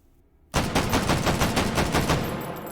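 MAS 49/56 semi-automatic rifle firing 7.5x54mm French rounds in the VR game H3VR, a rapid string of loud sharp shots fired as fast as possible after a moment of quiet.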